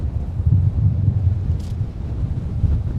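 Steady, loud wind buffeting a microphone outdoors at Minneapolis–St. Paul airport, a continuous low rumble with gusty fluctuations and no voices.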